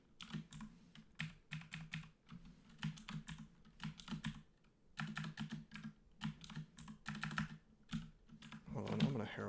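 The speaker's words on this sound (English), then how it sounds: "I have to sort of press the asterisk key on my keyboard and then a direction" Computer keyboard typing while playing a dungeon roguelike game: bursts of quick, close key clacks in uneven clusters, fairly quiet, over a low steady hum, with no voices.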